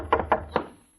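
Several hollow knocks on a door in an old radio drama, a cluster of two quick raps followed by a single rap, then another knock after a pause, close and moderately loud with no talk.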